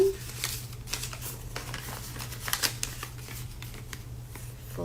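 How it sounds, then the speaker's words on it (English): Crisp crinkling and rustling of paper being folded into an origami triangle, with dense close-up scratchy handling over a low steady hum. "fold it in half again and make a triangle"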